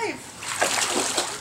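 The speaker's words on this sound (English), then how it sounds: "Splash." Water splashing in a swimming pool, a continuous churning wash with a few stronger splashes, close by, while someone speaks over it.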